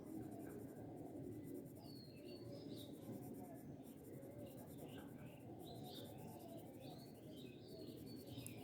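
Pen or marker strokes filling in bird feathers with navy blue colour on paper, a steady close scratching that runs throughout under faint birdsong chirps.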